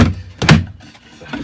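Wooden locker door aboard a sailboat being opened, a close knock and thunk followed by a louder bang, then faint rattling, with no talk.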